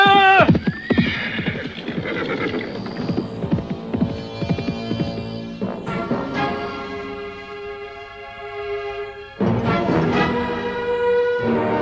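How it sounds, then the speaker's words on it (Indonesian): Horses ridden by Arya Kamandanu and Ranggalawe through hilly countryside: steady clip-clop hoofbeats with loud whinnies at the start, over a humming, droning backing that continues throughout. "Arya Kamandanu dan Ranggalawe berkuda menyusuri daerah yang berbukit-bukit"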